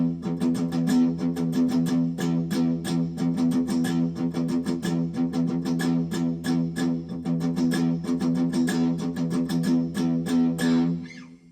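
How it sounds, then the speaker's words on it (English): Electric guitar repeatedly picks a low open E string in a steady, driving rhythm, loud and constant throughout with no talking. "when the rock part starts, it's just an open E string the whole time"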